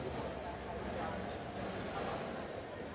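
A diesel-hauled passenger train pulls out of a station, a broad continuous rumble of rolling wagons and wheels with a faint high squeal running through it, steady and fairly close.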